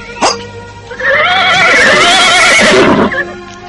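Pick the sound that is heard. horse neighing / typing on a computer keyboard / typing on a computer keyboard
horse neighing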